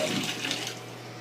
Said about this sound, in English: I'm gonna go check my bath water real fast